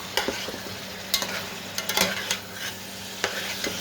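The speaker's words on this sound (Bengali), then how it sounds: "শোল মাছটাকে কষিয়ে নিচ্ছি একটু।" Snakehead fish and onion stir-frying in a pan, a steady close sizzle broken by the clatter and scrape of a spatula as the pieces are turned.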